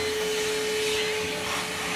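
Vacuum cleaner running steadily and close, a loud, continuous broadband whoosh with a fixed motor whine, no pauses or talk.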